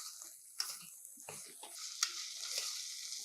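Beetroot cubes and sprouts are stirred in a pan: soft scraping and sizzling hiss with a few sharper clinks of a spoon, fairly quiet and close, with no talk.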